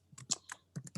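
Fingers tap a computer keyboard while typing a message, a quick irregular run of about eight close, crisp keystrokes with short pauses between them.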